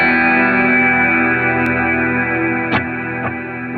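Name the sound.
guitar through the Brig stereo delay pedal, all other effects off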